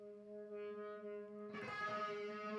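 Electric guitar G sharp octave swelling in as the pickup volume is rolled up, a sustained distorted tone that starts quiet, then blooms louder and brighter partway through, heard alone.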